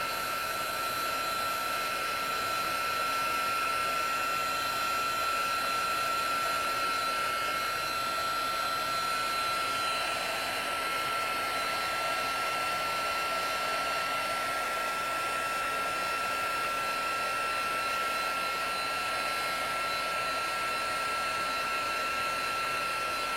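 A heat embossing tool blows hot air over embossing powder on paper, giving a steady, whining, continuous hiss and hum that holds unchanged throughout.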